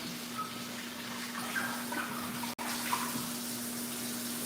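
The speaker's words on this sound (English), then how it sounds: "Now this pot now needs some more water. So I'm just going to add a little more water." Water runs steadily from a tap into a cooking pot at close range, a continuous rushing stream with a brief cut partway through and no talking.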